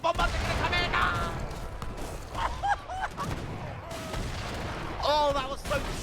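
Bombard cannons firing in the real-time strategy game Age of Empires 3, a burst of booming blasts and battle clatter at the start with an excited voice shouting over the action.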